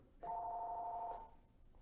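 Telephone ringing once, a steady electronic tone held for about a second, moderately loud in a quiet room.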